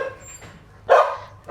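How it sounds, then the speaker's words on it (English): A single loud dog bark, close by, following a short stretch of quieter sounds, outdoors on an off-grid Australian property. "That's why the dogs are barking"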